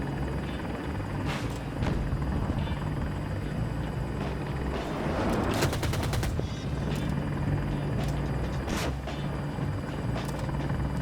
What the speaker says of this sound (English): hitting a flying chopper kinda difficult